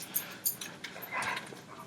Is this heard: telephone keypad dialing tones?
no